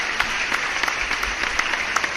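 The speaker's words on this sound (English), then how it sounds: "Let me give you an applause again." Short burst of applause added as a sound effect, steady clapping at moderate volume with no voices over it.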